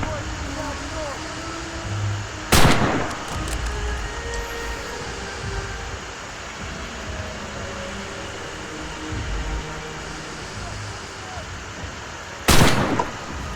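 Sniper rifle fire in Red Orchestra 2: Heroes of Stalingrad: two sharp, loud cracks about ten seconds apart over a continuous background of battle rumble and scattered voices.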